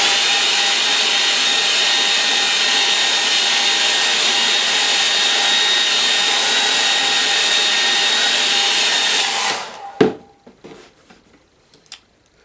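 A hair dryer blows steadily and loudly on a painting in progress, a constant airy roar lasting about nine seconds, then cutting off abruptly, followed by a few small clicks and taps.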